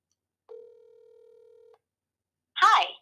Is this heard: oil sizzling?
no